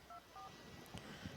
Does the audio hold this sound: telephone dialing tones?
yes